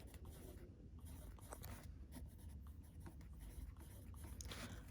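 A pencil scratches softly on paper as circles are drawn for a junior math array lesson, a faint, continuous scraping close by with no talking.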